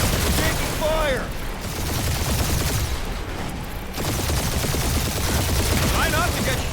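Rapid sustained gunfire and turret fire during a spaceship dogfight in Marvel's Guardians of the Galaxy (2021) game, a dense loud barrage of blasts with synthetic whooshing laser tones over it, nearly continuous throughout.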